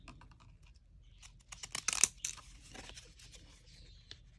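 Scissors cutting craft material for Christmas-themed crafts, a cluster of crisp snipping and rustling cuts up close, with scattered lighter snips afterward.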